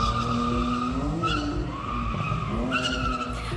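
Cars skidding at a late-night car meet in a supermarket car park: a loud, sustained tyre squeal over a droning engine, with the pitch sliding and wavering throughout and no voices.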